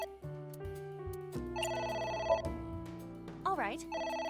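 A telephone rings inside the video game AI: The Somnium Files with an electronic melodic ring, set among layered game music tones and a swooping chime, with a voice speaking over it now and then.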